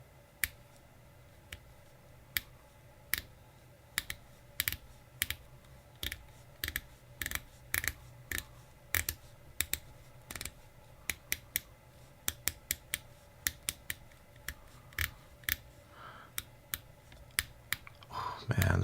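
A Monta Oceanking time-only watch with a gilt dial has its 60-click bezel turned, giving crisp, close, individual clicks in uneven bursts and runs, alone without talk.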